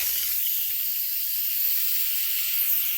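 A pressure cooker's valve, switched to venting, releases hot steam in a loud, continuous, steady hiss that stays close and unbroken throughout.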